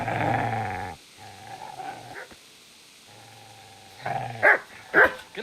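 Dog barking and growling in the video game Kingdom Come: Deliverance, with low rumbling growls followed by several sharp, loud barks near the end.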